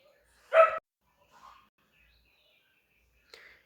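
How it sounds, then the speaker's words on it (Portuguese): A street dog gives one sharp bark, clear and fairly near, followed by a faint softer yelp and a brief distant sound later in otherwise quiet surroundings. "Aí esse cachorro de rua fica gritando aí"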